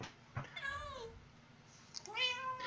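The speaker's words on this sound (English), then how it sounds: "There's cats back behind these." Two plaintive cat meows from Minecraft sound out one after another, clear and fairly near, separated by a short pause with no talking over them.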